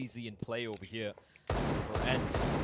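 Deagle pistol shots in the video game Counter-Strike, a loud burst of gunfire erupting in the second half after a commentator's voice, continuing densely to the end.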